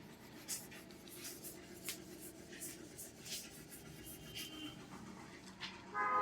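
Writing on a board during a maths lesson, faint scratchy strokes and taps repeating irregularly at low level with quiet room noise, no talking over it.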